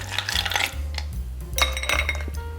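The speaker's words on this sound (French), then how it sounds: "Dans ce verre, qu'on va déjà remplir à moitié de glace" Ice goes into a cocktail mixing glass, heard close up as a series of hard clinks and rattling knocks of cubes against glass over a couple of seconds.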